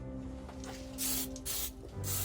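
Spray paint hisses onto a Reaper miniature dragon in three bursts of about half a second each, close and loud above a low steady background hum.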